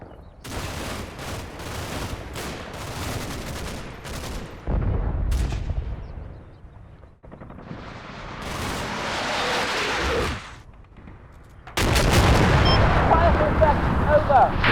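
Artillery and gunfire in a Normandy World War II combat game: bursts of distant booms and crackling volleys that rise and fall, with a loud heavy barrage at the end.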